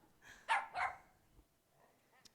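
A small dog barks from inside a purse at a dinner theater show, two sharp yaps close together, followed by quieter murmuring and faint sounds.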